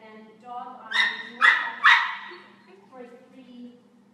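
Dog at agility training giving a few sharp barks and yips close by, three bright bursts in quick succession followed by softer whines.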